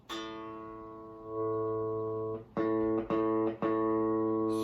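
A guitar plays a single A note, first ringing out and sustaining, then picked again several times in a short repeated sequence.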